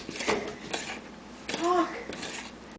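Brownie batter stirred in a bowl, with a utensil clinking and scraping against the bowl in a few close knocks and swishes, mixed with someone talking.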